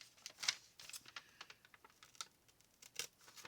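A folded sheet of paper torn in half by hand gives faint, close crackling rips in short, uneven bursts, with no talking.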